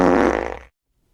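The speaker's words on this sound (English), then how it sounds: "the urge to want to fart, and it is okay, it's perfectly natural" A loud, close fart with a buzzy, rumbling tone, fluttering for about half a second before cutting off into silence.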